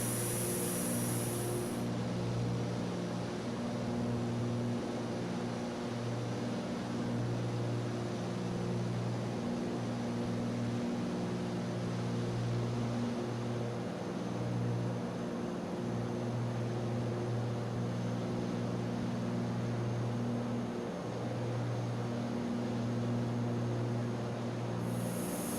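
An aircraft engine in the X-Plane 11 flight simulator, flying over Barrow, Alaska, gives a steady, unbroken propeller-like drone with a constant low hum throughout and no talking.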